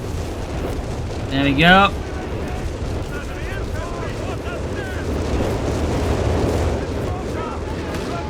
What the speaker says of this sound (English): And we get the creeping barrage now.